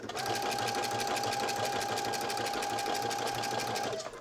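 A sewing machine stitches around the neckline of a beginner-friendly knit dress, running steadily and close for about four seconds before stopping at the end.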